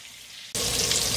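Mutton kebab and onions drop into hot ghee and break into a loud, steady sizzle after a half-second of quiet, the frying holding close and continuous to the end.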